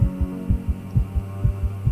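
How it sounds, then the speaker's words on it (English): A heartbeat thumps in the horror visual novel The Letter, deep and quick in paired lub-dub beats, about seven in quick succession. Each beat is loud and booming over a low droning hum, with no talking. "heart pounding rapidly against my chest"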